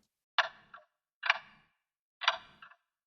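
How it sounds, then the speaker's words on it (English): A clock-tick sample used in a music production, three distinct ticks spaced unevenly about a second apart, each a bright clicky hit with a short decay, isolated against silence. "Of course, the clock sample."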